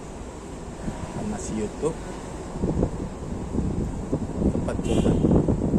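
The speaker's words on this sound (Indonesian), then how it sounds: "Angin kencang." Strong wind buffets the microphone in gusty rumbling bursts that grow louder toward the end, with a person talking throughout.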